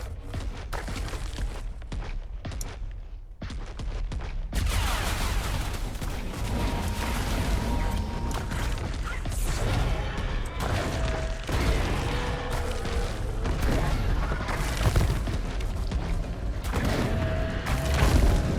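Gunfire from a Mauser in ARK: Survival Ascended, battering away against a Carcharodontosaurus in a Legendary Orbital Supply Drop defense, heard as a dense, continuous roar of overlapping shots and booms with no voices, sustained and loud throughout.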